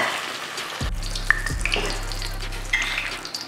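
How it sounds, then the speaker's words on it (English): A chicken Kiev shallow frying in hot oil in a pan, with a steady close sizzle and crackle and a few sharp pops and spits over a low hum. "we just want this to shallow fry for just a couple of minutes now, just letting this shallow fry"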